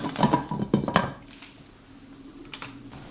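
A metal lid clatters onto a simmering pot of chicken rice soup, a few quick close clanks in the first second, then a quieter bubbling background with a couple of light taps.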